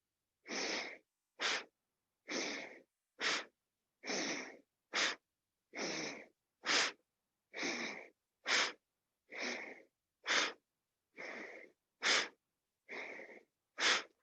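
Sixteen deep, even yoga breaths during a morning flow class, alternating longer inhales and sharper exhales in a steady rhythm, close and clear against silence.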